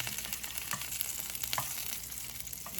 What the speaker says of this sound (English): letting it kind of sizzle around in the pan